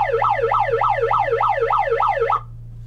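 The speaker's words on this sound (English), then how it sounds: "Good hit alarm." A wailing electronic alarm siren, played as a trading-card break's good-hit alarm, sweeps up and down in a steady rapid cycle, loud and close, over a constant low hum, then cuts off abruptly near the end.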